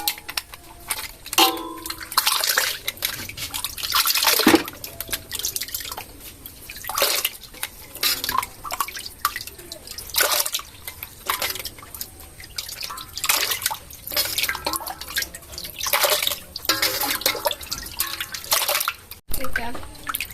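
Fermented cacao beans being washed in water, with steady splashing, dripping and sloshing as the beans are stirred and rinsed by hand, continuing for a while alongside occasional speech.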